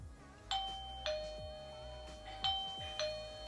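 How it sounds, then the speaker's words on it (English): A eufy video doorbell chime rings out in several clear, bright ding tones with sustained ringing overtones, struck about four times in two pairs against a quiet room. "But if you guys do press the chime now for this one"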